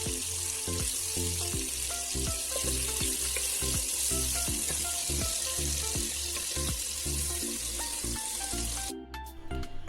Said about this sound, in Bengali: এই পর্যায়ে মাছের যেহেতু এক সাইড ভাজা হয়ে গিয়েছে, তাই আমি অন্য সাইড সেমভাবে ভেজে নিচ্ছি